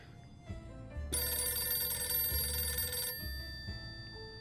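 A telephone rings steadily for about two seconds in the survival video game 60 Seconds, a bright electronic bell over a low rumbling game backdrop, with brief thumps before and after.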